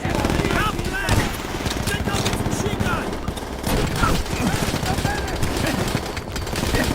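Sustained machine-gun and rifle fire crackles loudly throughout a Call of Duty World at War battle, with dense overlapping bursts and voices talking over the shooting.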